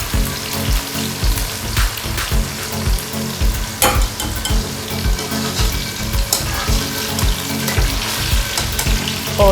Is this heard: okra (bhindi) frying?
yes